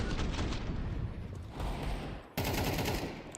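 Rapid gunfire from a Counter-Strike match, dense bursts of automatic fire running continuously with a brief dip before another loud volley cuts in.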